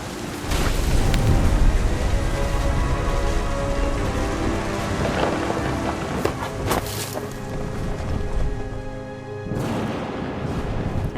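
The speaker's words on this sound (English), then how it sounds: "The thunder sounded much too close and full of angry power" A storm from the video game What Remains of Edith Finch, with heavy rain drumming steadily and deep thunder rolling and cracking close by.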